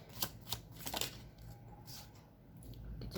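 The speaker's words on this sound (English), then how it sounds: "Let's just get few more cards." Tarot cards being shuffled for a reading: quick close papery flicks and riffles, clustered at the start and then thinning to a softer shuffle.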